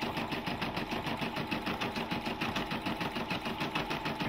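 A Brother PB6800 combo machine sews a buttonhole with a fast, steady, rhythmic mechanical chatter, moderately loud and close, running evenly without pause or talk.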